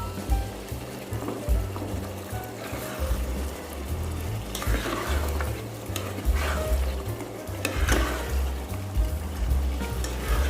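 Pumpkin and chicken curry fries uncovered in released oil, giving a steady, close sizzle with repeated scraping stirs in an uneven rhythm, and no one speaking.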